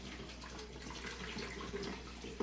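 Faint, steady rush of water poured into a brewing container for a chicha or tepache beer brew with dark brown sugar, continuous for a couple of seconds with a small splash near the end.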